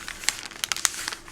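Wrapping paper being folded and creased into a small gift bag, giving a close, brief run of crisp crinkles and rustles with no talking.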